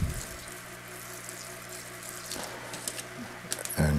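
Water poured and trickling onto seedlings sown in bags under grow lights, a soft continuous splashing with a steady low hum behind it and a louder slosh at the end.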